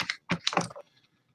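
A computer keyboard is shoved aside on a desk, making a few quick scraping and clattering bursts close by before everything goes quiet.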